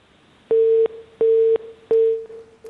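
A telephone busy signal after a call line is cut: three loud, steady single-pitch beeps of equal length separated by short silences, close and alone.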